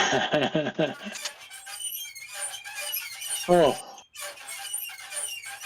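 A squeaking sound effect set off by a donation plays as a rapid run of rising squeals, then a second burst later, mixed with a streamer's talking.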